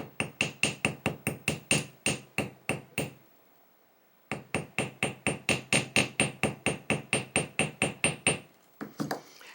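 Light, quick hammer taps with the domed face flatten an earring wire, about twenty even strikes in a steady run, a pause, then another long regular series, close and alone.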